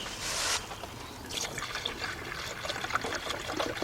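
Coolant pours into the cooling system of a Chrysler 300 or Dodge Challenger/Charger, a close, steady trickling gurgle with small splashes and drips running throughout.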